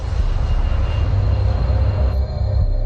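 Boeing airliner turning to line up with runway 18 right, a loud, steady, close roar of engines that holds throughout, with a slight change in tone near the end.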